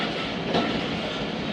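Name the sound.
Jaffar Express train running on rails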